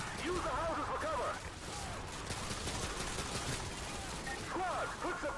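Dense Modern Warfare 2 battlefield gunfire in a street fight, sustained bursts of automatic fire with rapid overlapping shots, shouted voices mixed in.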